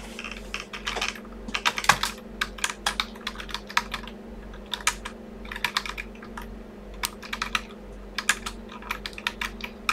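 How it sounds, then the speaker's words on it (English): Fingers type on a computer keyboard in irregular bursts of crisp, close clicks with brief pauses between runs of keystrokes, over a faint steady electrical hum. "what I did is I typed in Fire Crystal Firebase Arcadia"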